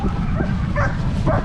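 Sled dogs bark and yip excitedly, overlapping and close, with some whimpering mixed into the noisy chorus.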